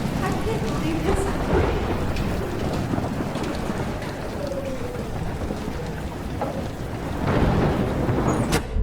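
A thunderstorm during a tornado in the game Life Is Strange: dense, loud rain and wind roar throughout, with low rumbling swells and a louder surge near the end, a voice faintly beneath.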